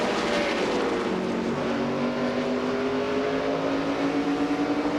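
Pickup race trucks in a stock-truck race run laps on an oval, engines droning loud and steady with layered rising pitches as the pack circles, no talk over it.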